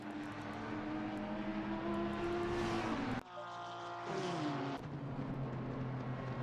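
Racing cars at Spa-Francorchamps in the Race Club UK Shooting Stars Cup, including a Race Club UK Honda, with loud sustained engine whine shifting pitch as cars pass close by, a sharp drop near the middle, then more engines rising again.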